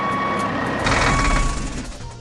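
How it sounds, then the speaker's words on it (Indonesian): A red tow truck arrives with a steady electronic reversing beep over a rumbling engine and a hiss like an air brake, close and fairly loud. "truk derek merah datang untuk menolong"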